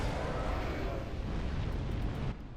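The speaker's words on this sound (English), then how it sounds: "there are a bunch of exploding barrels and dudes who throw firebombs" A dense, rumbling roar of exploding barrels and thrown firebombs in Dark Souls 3 fills the whole stretch, loud and continuous before dropping off sharply near the end.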